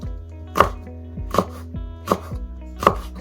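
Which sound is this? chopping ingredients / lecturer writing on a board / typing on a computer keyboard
chopping ingredients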